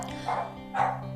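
A Sapsal puppy barks twice in a yard, two short, fairly close yaps spaced about half a second apart over a steady, soft musical background.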